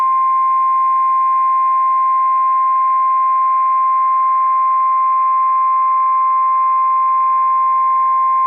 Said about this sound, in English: This has been a test of the NOAA Weather Radio Warning Alarm device